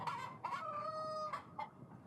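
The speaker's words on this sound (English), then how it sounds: "It did crow. It did crow right there." A rooster crows once in the video game Yes Your Grace, where it acts as a lie detector; the crow comes as a clear, fairly quiet drawn-out call followed by a couple of short clucks, with no talking.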